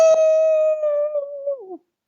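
A person imitates a hound dog howl with one sustained, clear, tonal note that holds steady, then wavers and bends downward before cutting off, close and alone.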